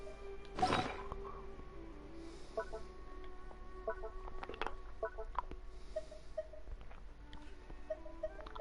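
A chicken in the Genshin Impact video game clucks in short, repeated bursts against a faint game backdrop, with a louder squawk near the start followed by steady, evenly spaced clucks.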